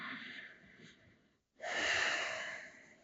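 Deep breathing during a yoga pose in a tabletop position, a slow airy exhale that tapers off, a brief pause, then a strong, close, rushing inhale.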